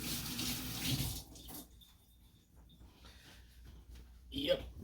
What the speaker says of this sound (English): Quick wash of the hands.